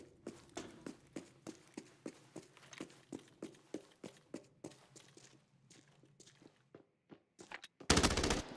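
Rapid bursts of video-game gunfire from a solo match crack out in a steady rhythm of sharp shots, fading to sparse single shots before a loud, harsh blast of noise closes things out.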